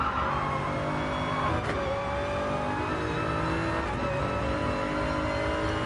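Dense, steady engine roar from a GT3 race car in a sim racing game at Mount Panorama, short shifting with rising and falling gear tones and no voices.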